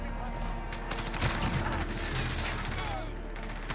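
Sustained gunfire in Call of Duty Modern Warfare, dense rapid bursts of automatic shots rattling continuously with booming low impacts, steady and loud throughout.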